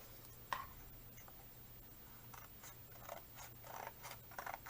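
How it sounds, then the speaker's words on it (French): Scissors snipping paper for a 30x30 mini album page, a few quiet, close crisp cuts scattered over a few seconds against a faint steady hum. "moi je vais couper ici quelques millimètres, non pas des centimètres, quelques millimètres pour que ça puisse bien fermer"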